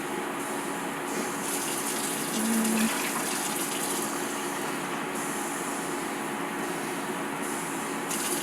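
Liquid poured steadily while preparing sugared limequats, a continuous gushing, splashing stream that holds fairly even throughout, close and moderately loud with no talking.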